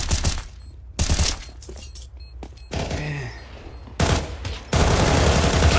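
Competitive Counter-Strike gunfire as a MAC-10 trades long-range shots with USP pistols: loud, dense bursts of rapid shots and sharp single cracks, with brief lulls between volleys and a steady game-ambience bed underneath.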